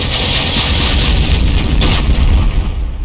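A heavy railgun in a Doom mod fires with a loud, rumbling boom and a broad crackling blast that holds for about three seconds and then cuts off abruptly, with no talk over it.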